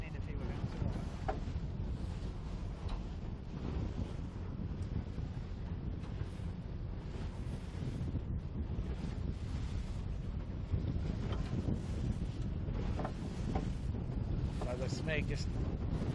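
Rough water slaps and rushes around a racing sailboat during a spring championship race, mixed with steady wind buffeting the microphone throughout, while crew talk briefly over the noise.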